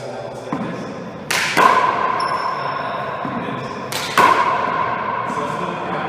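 A handball strikes a court wall twice, each a sharp smack followed by a ringing echo in the enclosed court, a few seconds apart.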